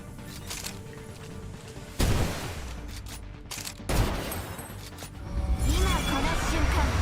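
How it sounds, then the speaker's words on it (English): Rapid gunfire from the video game Snowbreak Containment Zone rattles in dense bursts, with loud volleys breaking in around the two- and four-second marks and continuing heavily, while voices speak faintly underneath. "start firing at each other"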